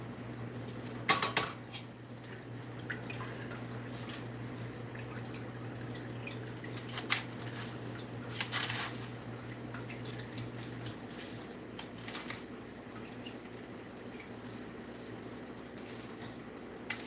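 Sauerbraten marinade drains through a kitchen strainer in quiet, scattered drips and small liquid splashes, with a few brief clatters of the strainer and bowl against a steady low hum.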